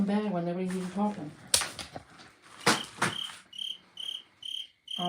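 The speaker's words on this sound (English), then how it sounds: "Oh, that cricket, I hear it." A cricket chirps in a steady series of short pulses, clearest toward the end, after a voice and some sharp clicks and taps early on.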